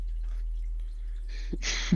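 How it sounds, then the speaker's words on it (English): A cartoon water droplet falls and strikes a face: a quiet low hum gives way to two short, bright watery drip plinks near the end, close and clear, with nobody talking. "It's just that one gif of a drop of water hitting Finn Adventure Time's face."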